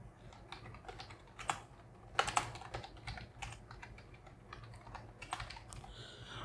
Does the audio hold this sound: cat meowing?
no